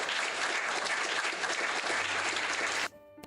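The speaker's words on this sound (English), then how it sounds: "give a round of applause, everybody" A crowd claps loudly and steadily for nearly three seconds, then the applause stops abruptly into near silence.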